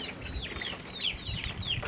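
Farm chickens clucking and chattering nearby, a steady run of short overlapping calls over light background noise, with no talking.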